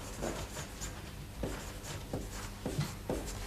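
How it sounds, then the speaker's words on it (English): Pen scratching across paper in a quiet room, a handful of short strokes spaced over a few seconds against steady low background hum. "Just write grassy knoll."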